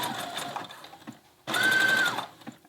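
A sewing machine stitches elastic onto a skirt, with a quieter run of stitching followed by a louder, faster burst, close and alone.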